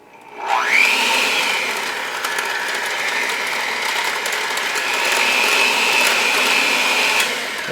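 An electric mixer whirs steadily as granulated sugar is beaten into chocolate cake batter, a loud continuous motor drone that starts abruptly and holds for several seconds with no talking.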